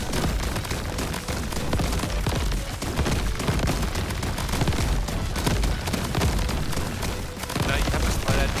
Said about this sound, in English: I love how all that stuff is exploding in my face